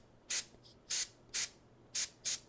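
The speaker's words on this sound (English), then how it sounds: "So that little bit of spray over here." Spray paint misted over the gold on a painted miniature to give a fiery glow, five short hissing bursts with brief pauses between them, close and clear with no talk.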